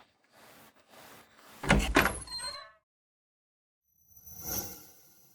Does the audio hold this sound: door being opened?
yes